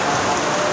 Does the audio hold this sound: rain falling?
yes